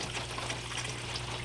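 Water runs steadily through a gold sluice over wetted paydirt, a continuous, even rushing wash with a low hum underneath and no voices.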